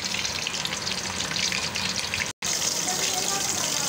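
Chicken sizzles in a pan over low heat, a steady, dense frying hiss with one brief cut in the middle, while a voice talks over it.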